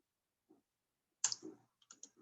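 A computer mouse clicks in a quiet room: one faint click, then a sharp close cluster of clicks followed by a few lighter taps, each short and separated by silence.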